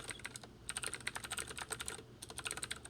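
Rapid keystrokes on a computer keyboard, quiet and close, clattering in irregular bursts with a short pause partway through and no talk.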